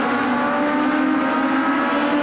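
Race cars of the Pro Challenge series at Flamboro Speedway roar past in a dense, continuous engine drone, several cars running close together with a steady, loud mechanical hum and no pauses.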